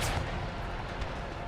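A volley of musket fire rolls downhill across an Empire: Total War battlefield, a dense crackling burst of overlapping shots that rings on as a steady rumble.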